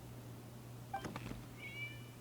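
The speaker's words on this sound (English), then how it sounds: "Oh, what's that sound? What's that sound? It was a cat." A cat in the Genshin Impact game world gives a short, thin meow and then a second, longer one, fairly faint over a steady low hum, with no talking.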